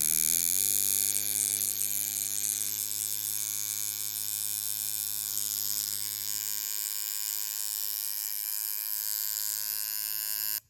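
A coil tattoo machine buzzes continuously at close range with a bright electric whine, its tone shifting slightly as it is tuned, then cutting off abruptly at the end; no one speaks.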